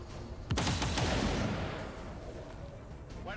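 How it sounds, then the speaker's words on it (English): A disruptor rifle fires in the video game XCOM 2, a loud sudden burst of booming gunfire with a crackling, rumbling tail that fades over a few seconds. "it occurs to me that I actually haven't had Tyler fire this damn disruptor rifle"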